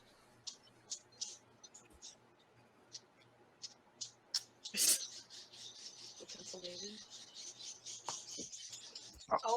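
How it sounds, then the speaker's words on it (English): Synthesized techno-style bird chirps repeat in short, bright bursts, fairly faint, with a louder burst partway through and a low steady hum underneath while people talk. "Birds chirping outside. Techno birds. Techno birds. Synthesizer birds."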